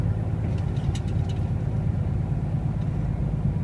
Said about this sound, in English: as you can probably hear with the gear changes